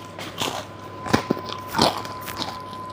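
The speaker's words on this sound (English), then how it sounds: "Still getting that crunch." Bites into a crunchy pizza slice crackle up close, several sharp crunches spaced irregularly through a quiet room with a faint steady hum.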